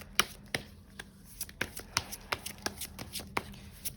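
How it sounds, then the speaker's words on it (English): Tarot cards shuffled and drawn by hand, a run of crisp riffling flicks and slaps in an uneven rhythm, close and fairly quiet with no talking. "let's grab one final card"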